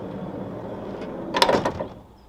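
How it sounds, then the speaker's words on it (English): A camper van's sliding door rolls open with a low rumbling slide that builds into a louder clattering latch and clunk, then quiets. "It is on this amazing sliding door, which is really easy to open and close."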